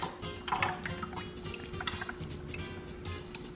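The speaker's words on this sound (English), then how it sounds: "what I'm looking for is about like maybe 2 to 3 drips a second" Water drips through knotted airline tubing into a tank to acclimate blue velvet shrimp, giving soft liquid drip and trickle sounds over a steady low hum with a faint background tone.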